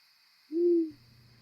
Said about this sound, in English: The massive owl lets out a final hoot